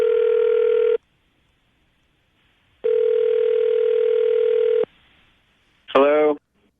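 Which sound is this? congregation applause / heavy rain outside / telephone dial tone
telephone dial tone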